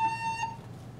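A recorder sounds a single short note A, a pure whistle-like tone wavering briefly then fading within half a second, faint and alone.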